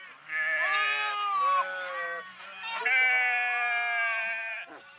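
Sheep bleat at a herders' camp near Kadayapatti village in Pudukottai: two long, quavering, nasal calls close by, overlapping animals, with a short pause between them.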